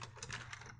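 Keys on a computer keyboard being typed in a quick, close burst of clicks lasting under a second, with no voice over them.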